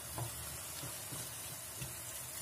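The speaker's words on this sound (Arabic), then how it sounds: "دابا غادي نضيف هاد الصلصه ديال الطماطم" Seafood paella pan sizzles steadily as tomato sauce goes in, a constant close frying hiss with soft, irregular stirring bumps underneath.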